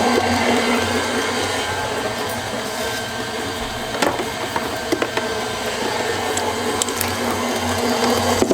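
An electric mixer beats cupcake batter in a kitchen with a steady, loud motor whir and a few light clicks and knocks from the bowl or beaters, running without pause and with no speech.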